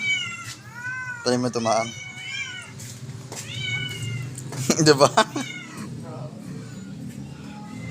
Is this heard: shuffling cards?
no